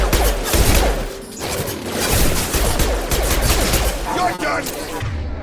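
Dense rapid gunfire from the video game Mass Effect Legendary Edition, loud sustained bursts and crackling shots layered with explosions and mechanical clatter, with voices calling out underneath.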